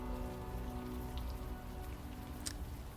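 Steady rain in the video game Unavowed, a dense continuous patter on surfaces with soft drips and a few brighter splashes near the end, loud and unbroken with no voices.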